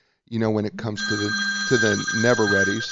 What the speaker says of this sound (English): that's just a phone in the background